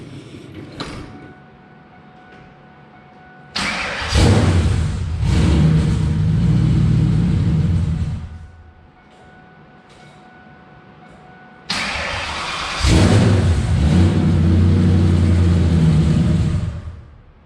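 A TTSaleen car with a freshly installed T56 Magnum manual transmission cranks and fires twice, each start bursting into a loud rumbling idle for several seconds before cutting out to a quieter background hum.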